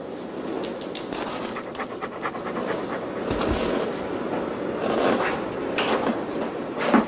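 A dog panting rapidly and steadily, close up and fairly loud, with continuous breathy rasping throughout and no voices.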